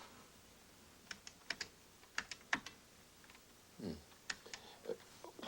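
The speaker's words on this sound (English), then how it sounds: "The question appears on the screen and I answer it by typing it out." Typing on a computer keyboard, sparse clicking keystrokes in short irregular bursts, close and fairly quiet with no talking.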